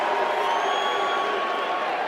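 Arena crowd at UFC 44 in the Mandalay Bay cheering and roaring as a steady, dense wash of noise, moderately distant with no distinct claps or voices standing out.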